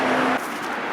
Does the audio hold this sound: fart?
no